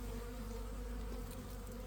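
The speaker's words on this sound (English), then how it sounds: "You can see multiple bees trying to get syrup." Honeybees swarm around syrup in a small mating nuc built from a mini hive kit, giving a steady, close, dense buzz with no letup and no voices.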